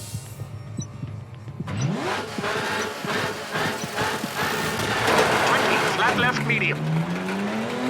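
A Lancia Stratos historic rally car racing a Wales stage in the WRC 8 game, engine revving up and shifting with gravel and tire noise, loud and close, while a co-driver calls pace notes.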